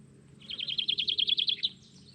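Small bird chirping in a rapid run of about a dozen bright notes, fairly close, over a low background hum.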